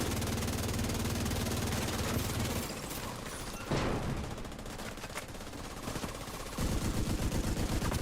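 Automatic gunfire from a weapon in the video game The Division 2, loud rapid bursts at the start and again near the end, with a sweeping mechanical whoosh between them.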